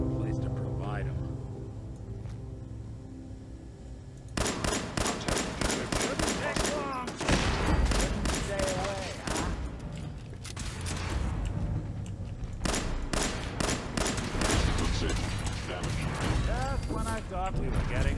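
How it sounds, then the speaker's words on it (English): Rapid gunfire in Fallout 4: long bursts of fast automatic shots crack loudly in dense runs, pausing briefly between volleys, with a quieter stretch of game ambience and mechanical sounds at the start. "I went through 200 rounds there, 200 shots there."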